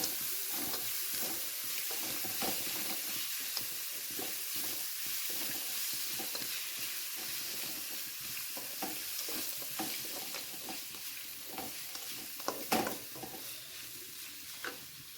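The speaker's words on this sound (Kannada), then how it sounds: "ಇದನ್ನು ಹಾಕಿಬಿಟ್ಟು ಮಿಕ್ಸ್ ಮಾಡಬೇಕು." Mango rice mixture stirred in a frying pan with raw mango, a steady scraping and gentle sizzle continuing throughout, with a sharper clatter near the end.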